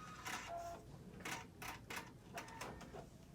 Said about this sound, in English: The longest is when the machine is cutting.